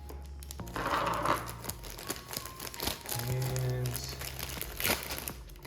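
Yellow plastic bag from a 1/100 MG Sinanju Ver. OVA model kit rustling and crinkling in close bursts as it is handled and cut open, with a brief spoken word.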